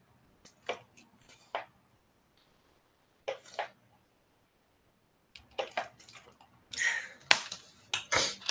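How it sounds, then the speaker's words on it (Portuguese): Someone drinks water in short bursts: sips, swallows and small clicks, with a quiet pause in the middle before a denser run of gulps and mouth noises near the end. "deixa eu só beber aqui um pouco de água."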